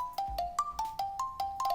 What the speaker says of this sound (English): A ringtone stops me mid-sentence